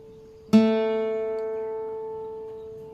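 A single guitar note plucked on the third string at the second fret rings out clearly and slowly decays, with quiet background before the pluck.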